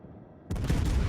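The naval guns of the Annapolis cruiser in World of Warships fire in a loud, close salvo that erupts suddenly after a quiet half second and rolls on as a dense, booming barrage.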